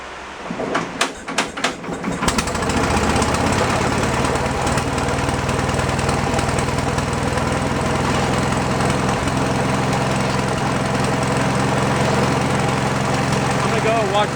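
An old Wisconsin engine-driven generator coughs through a few uneven firing bursts, then catches and settles into a loud, steady running drone that continues to the end.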